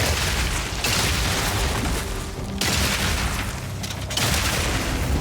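Scatter explosive shot detonations from Path of Exile 2, fired by a run-and-gun Mercenary, pile up as a loud, dense barrage of overlapping booms and crackling bursts, surging in waves with brief dips around every second or two.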